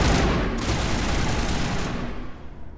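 Dense, continuous gunfire from a firefight against aliens in the video game Mass Effect, a loud, unbroken rattling barrage that stays heavy throughout and fades slightly at the end, with no voices.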